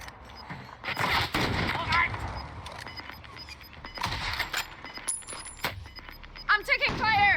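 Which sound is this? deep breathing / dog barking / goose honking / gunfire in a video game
gunfire in a video game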